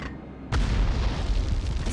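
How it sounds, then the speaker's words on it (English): A rocket launcher shot in a PS1 video game ends in a sudden heavy boom, one loud explosion that hits after a brief lead-in and then rumbles on with dense low noise. "Shot my rocket launcher."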